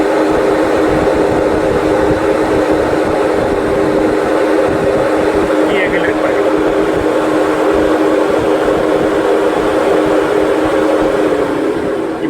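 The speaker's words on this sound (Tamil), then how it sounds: "இப்போ ஆஃப் பண்ணால் கூட இந்த ரேடியேட்டர் ஃபேன் ஆஃப் ஆகிறதுக்கு கொஞ்சம் டைம் எடுத்துக்குது." A Volkswagen Polo's radiator fan keeps running after the ignition is switched off, giving a loud, steady whirring drone that holds unchanged for about twelve seconds.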